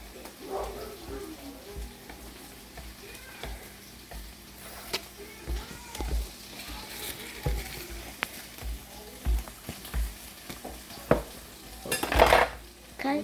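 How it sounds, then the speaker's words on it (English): A knife slices partway through mushrooms for a vegetarian stuffed-mushroom meal, making soft, irregular cutting taps close by amid light kitchen clatter and faint sizzling, with a person talking at times. "Now these shrooms, we're just gonna slice."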